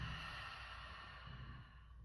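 A slow, deep exhale during a guided breathing exercise, soft, steady and close, with a low breathy rush lasting a couple of seconds and no talking over it.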